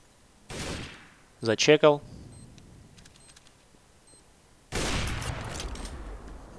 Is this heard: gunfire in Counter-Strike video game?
yes